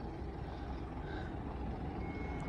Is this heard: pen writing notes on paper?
no